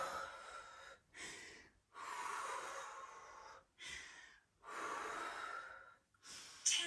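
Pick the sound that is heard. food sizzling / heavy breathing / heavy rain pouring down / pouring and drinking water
heavy breathing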